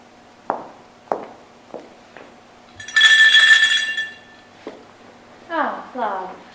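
A bell rung in a house to summon a servant, heard as a bright ringing burst lasting about a second amid scattered footsteps and light clinks, with a voice speaking afterward.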